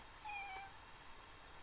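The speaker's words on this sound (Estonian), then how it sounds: "Okei, vabandust, see oli mu kass." A pet cat gives a single short meow at close range against a quiet room background.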